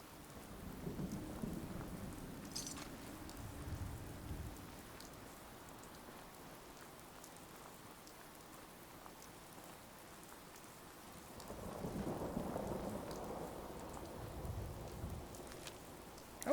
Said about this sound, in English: rain's coming in, but not rad storms, so that's not even that bad. Just a nice, soothing rainstorm.